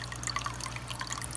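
A small trickle of water running through a partly turned valve, a faint steady flow with soft irregular drips and splashes over a low hum.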